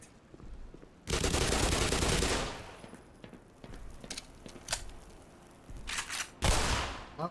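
Automatic gunfire from a weapon in the video game Black Mesa: a loud sustained burst of rapid shots, then quieter scattered pops and a second heavy burst near the end.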